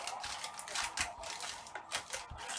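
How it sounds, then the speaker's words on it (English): Trading cards being shuffled and mixed during a live group card break, a run of quick papery riffles and flicks close by, with talk running over them. "Mix them up, shuffle up"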